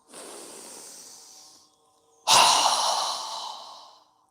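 Two forceful breaths are pushed out through the mouth during yoga breathing practice, each a long, close, airy rush that fades away, with the second louder and stronger than the first.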